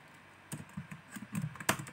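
Keys are typed on a computer keyboard while entering text into an MS Word document, a handful of close, uneven clicks and taps at moderate volume with no talking.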